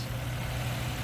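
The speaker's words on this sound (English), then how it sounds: "That, my friends, is the sound of a happy new engine, or a happy engine with a brand new carburetor on it" A 1967 AMC Rambler Rogue engine fitted with a new Holley 1931 carburetor idles steadily, a loud, even low rumble close by with no voices over it.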